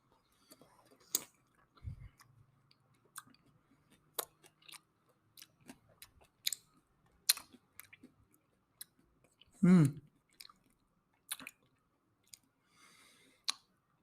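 Another bite of fresh pineapple being chewed close to the mic: soft wet clicks and squishes spread through the clip, one thick crunchy burst near the end, and a brief low bump early on.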